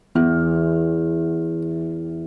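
A single guitar note plucked at the 12th fret rings out with a sharp attack and a steady, slowly fading sustain of clear harmonics, alone and close.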